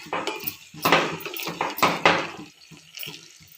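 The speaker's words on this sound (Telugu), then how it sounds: "2 స్పూన్స్ కారం వేసి ఇలా కలపాలి." A spoon clanks and scrapes against a pot as chili powder is stirred into an eggplant dish, giving a series of close, uneven metallic knocks and wet scraping with no talking.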